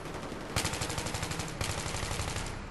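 Rapid automatic gunfire in Battlefield 3, a steady rattling burst with sharper cracks at intervals, loud and continuous with no talk over it.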